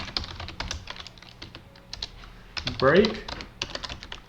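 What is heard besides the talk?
typing code on a computer keyboard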